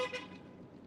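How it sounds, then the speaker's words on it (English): Car horns honking outside on a Las Vegas street, a couple of short toots at the start over a steady traffic rumble that fades after. "They weren't honking at us."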